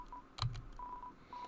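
A cell phone is used in a frog-themed Deltarune mod video game, giving short electronic dial-tone beeps and a brief blip, quiet against a low background hum.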